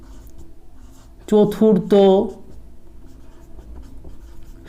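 A final answer written by hand on paper, with soft, steady pen scratching throughout and a short spoken word partway through.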